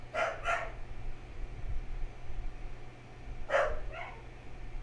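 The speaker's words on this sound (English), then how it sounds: "Apologies if you could hear dog noises." A dog barks in a home, two quick pairs of sharp barks a few seconds apart, moderately near but fairly quiet, over a low steady hum.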